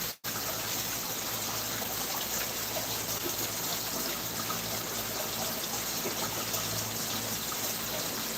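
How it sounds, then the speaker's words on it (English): Water from a hose nozzle pours steadily into a garden pond, a continuous, even rushing wash held at a constant level after a brief cut at the start, with no talk. "you'd have to know the rate of the water coming out of the nozzle"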